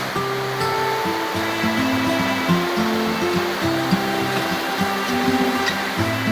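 A mountain river flows in a continuous broadband rush, loud and close, with a steady roar and no voices.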